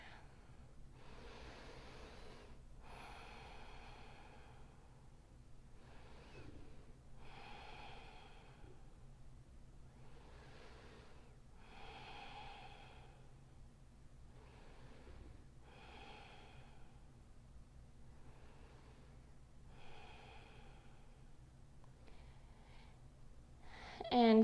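Deep, slow yoga breaths held through a seated posture with hands resting on the knees, a regular run of audible inhales and exhales spaced a few seconds apart, close and fairly soft, with no talking.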